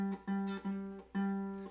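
A ukulele fitted with a low G string is plucked several times, each deep note ringing and slowly fading, quiet and close with no talking.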